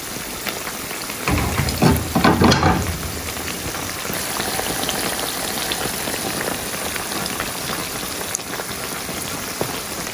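Spanish-style bangus (milkfish) sardines simmer in a pot with a steady, soft bubbling crackle. A louder burst of sizzling comes early on, then the bubbling settles to an even hiss.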